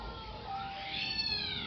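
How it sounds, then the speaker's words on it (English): The neighbor's cat meows angrily in a drawn-out, wavering yowl, heard at moderate distance and fairly faint over steady background noise. "The cat of the neighbor is mad."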